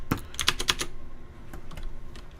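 Computer keyboard keys clatter in a quick burst of clicks, then a few slower, scattered keystrokes, close up with no talking.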